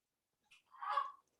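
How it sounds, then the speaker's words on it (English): A novelty bird clock chimes the five o'clock hour with a recorded goose call: a brief faint note followed by one longer honking call, alone in a quiet room. "That's my bird clock. I was hoping you guys would let me in so you can hear it."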